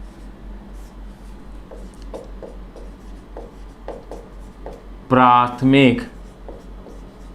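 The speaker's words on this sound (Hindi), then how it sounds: "देखिए क्या परिभाषा लिखेंगे" A definition being written on a board during a physics lesson about rainbows: faint, steady scratching strokes repeat at an even pace, with a short stretch of a man's speech near the end.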